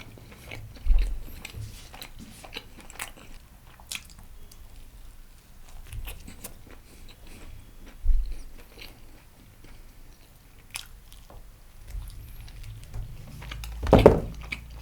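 Close, crisp bites and chewing on pizza drizzled with chili oil, a few distinct crunchy bites spaced through quiet mouth sounds, with a louder bite near the end and no talk.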